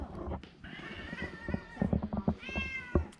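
A cat meows in repeated short, tonal cries, close and fairly loud. No one speaks, and there is background clatter and movement around it.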